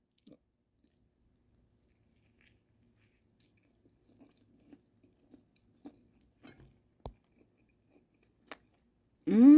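Quiet close-up chewing of a toasted donut sandwich with egg and sausage, heard as sparse soft crunches and bites spread across the stretch, ending in a louder burst.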